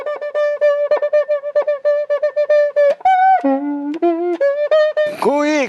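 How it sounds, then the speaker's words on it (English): A cuica friction drum sounded by rubbing its inner metal rod gives a quick run of squeaky, pitched hoots, repeated in a bouncy rhythm with swoops up and down and a rising whoop at the end. "So the cuica is it's a drum with a metal stick, a metal rod that's on the inside"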